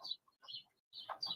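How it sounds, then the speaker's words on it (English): Little birds chirping outdoors, a few faint, quick, high twittering calls spaced by short pauses against a quiet background. "I like the ambience. It's very nice. I needed that. The little birds."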